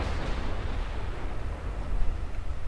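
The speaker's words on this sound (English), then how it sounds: "We get an ammo cook-off in 1947?" Ammunition cook-off aboard a warship in the naval game Ultimate Admiral Dreadnoughts: a continuous deep rumbling explosion with dense low-end roar and crackle, loud and unbroken throughout.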